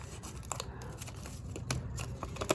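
Scissors make a run of short, crisp snips while fussy cutting a figure out of a paper digital print on a journal page; the cuts come close and fairly quiet, repeating at an uneven rhythm.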